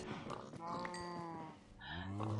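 Minecraft farm animals, cows and pigs, call out near the pen in the game, with a few short pitched bleating or mooing calls in quick succession, fairly quiet.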